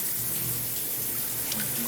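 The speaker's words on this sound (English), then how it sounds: "Oh, is someone taking a shower?" Steady hiss of a running shower in Persona 3 FES, a continuous dense spray of water that fills the whole moment, fairly loud and unbroken, with a faint low hum beneath.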